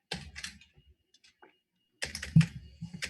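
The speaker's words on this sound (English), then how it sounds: "So type a couple commands to make sure it's not like my weird Dvorak or whatever." Commands typed on a computer keyboard: a quick burst of key clicks, a quiet gap with a few scattered taps, then another dense flurry of keystrokes, close to the microphone.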